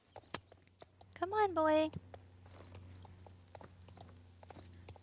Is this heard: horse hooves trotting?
yes